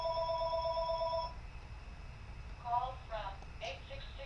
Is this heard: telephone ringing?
yes